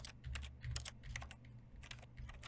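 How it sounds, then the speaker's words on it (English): Keyboard-like typing clicks in The Stanley Parable triggered by pressing E, a quick irregular run of soft taps, quiet and alone. "it sounds like typing on a keyboard"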